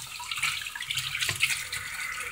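Running tap water splashes over a pasta strainer being rinsed in a sink, a steady close hiss of flowing water with small shifts as the strainer moves under the stream.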